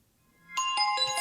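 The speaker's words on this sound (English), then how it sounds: "So I played all the ringtones" A phone alarm ringtone starts after a short silence, a bright repeating electronic chime in quick pulses, close and clear with no talk.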